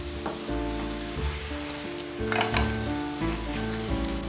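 An egg cheese paratha cooks in a hot pan while being flipped, a loud, close, steady sizzle with busy crackle and bursts of spattering as it is turned, no speech over it.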